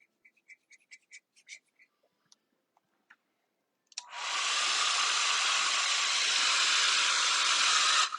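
A heat tool switches on after a few soft clicks and handling sounds and runs as a steady, loud, hissing blow, drying alcohol ink with blending solution during a craft session.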